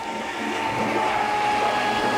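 A Glowforge Pro laser cutter starting up, its fan rising into a steady, close, broadband whir with a faint tonal hum, continuous with no voices.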